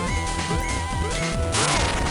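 Eggman is struck during a boss fight in the Sonic Advance 3 video game, loud crashing impacts and metallic clangs layered over busy game music and sound effects, with no talking.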